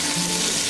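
Chicken pieces browning in a small pot over fairly high heat give a short, dense sizzle, close and steady, with no voices over it.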